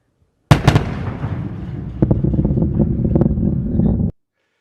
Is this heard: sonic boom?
yes